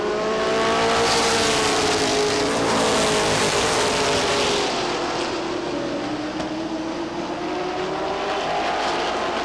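Race cars roar past on the backstretch at Lee Speedway, a loud sustained engine drone with sweeping pitch that swells early and eases slightly later, no voices over it.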